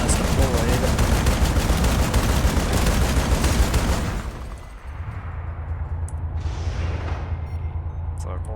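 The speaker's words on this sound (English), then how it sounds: "increase the fire rate on the top guns of a Sunderer when it's deployed" Rapid gunfire from the top guns of a deployed Sunderer vehicle in the Planetside 2 video game, a loud dense burst for about four seconds, then quieter low rumble with distant shots.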